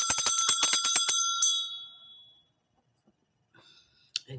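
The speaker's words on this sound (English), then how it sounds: "Ring your bell" A small bell is rung rapidly in a burst of bright, metallic strikes that fade into silence, followed by one faint click near the end.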